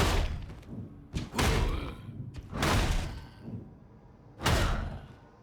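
In Warhammer 40,000: Darktide, an Ogryn's heavy attacks land as four loud, separate thuds and slams with whooshing impacts, spaced about a second apart. No one speaks.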